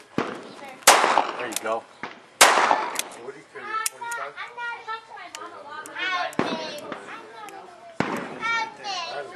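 Revolver shots ring out at a CCW qualification range, about five sharp, loud cracks spaced a second or two apart, with people talking between them.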